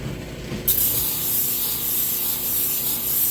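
Sandpaper rubs steadily back and forth over a wooden gun stock being shaped and refinished, making a continuous, close, gritty scratching with no voices.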